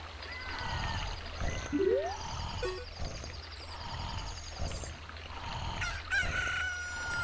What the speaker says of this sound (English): Look, a chicken hatched from the egg you were incubating.